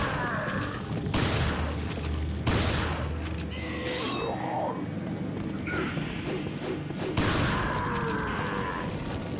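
Gunfire from the video game Resident Evil 4 on PS4, with several sharp shots and impact thuds spread across the stretch amid game effects, and a voice speaking over parts of it.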